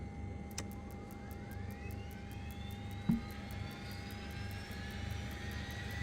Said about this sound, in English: Once the engine starts to get rolling